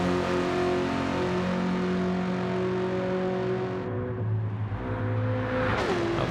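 Race car engine in a racing video game revs steadily and loudly throughout, pitch climbing and dropping through gear changes, with a brief higher whine near the end as the car works around tight corners.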